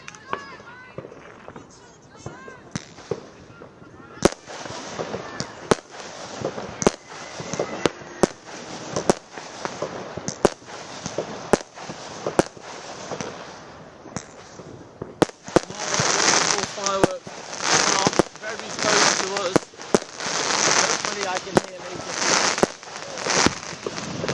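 Bonfire night fireworks go off near a university football match, with a relentless barrage of loud bangs and crackling bursts that grows denser toward the end, while a commentator talks over them.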